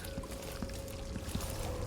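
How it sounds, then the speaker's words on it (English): Faint, continuous splash and trickle of a water fountain inside a mansion in Dishonored 2, a quiet gurgling wash with a steady tone humming underneath. "A bit of a fountain."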